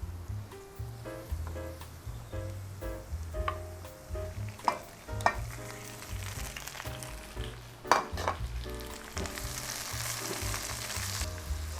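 Squid stir-fried with oyster sauce in a hot pan: a busy, continuous sizzle with frequent irregular scraping and clattering stirring strokes, close up and moderately loud, with no talking.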